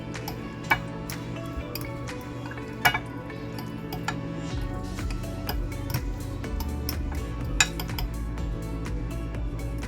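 Turkey seasoning ingredients are mixed in a bowl with a utensil, giving repeated light ticks and clinks against the bowl in an uneven rhythm, close by, over a low steady background hum.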